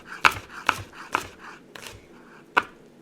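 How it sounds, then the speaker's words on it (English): A knife slices through crushed garlic cloves on a cutting board, giving five sharp, close taps spread unevenly over three seconds, each a crisp chop with a short tail and no voice. "So I have my crushed cloves, and now I'm just going to run my knife to thinly slice them."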